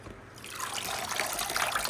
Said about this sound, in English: I just take the water and I'll just do some quick little scoops.